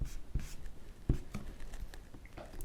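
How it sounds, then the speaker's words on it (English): An eraser rubs out pencil lines on a paper figure drawing in soft, scratchy strokes with a few firmer taps, close and quiet. "Let me erase some of this rhythm underneath."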